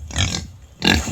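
Two short grunting snorts from one of three pet pigs kept on a small holding in North Wales, close and fairly loud with a quiet gap between them and no talk.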